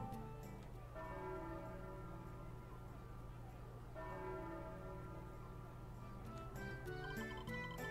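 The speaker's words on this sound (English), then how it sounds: "that's the temple that strikes these bells every hour" Crystal Temple bells in Final Fantasy Crystal Chronicles: deep, resonant bell strikes ring out about every three seconds, each swelling and decaying over a sustained, layered musical drone.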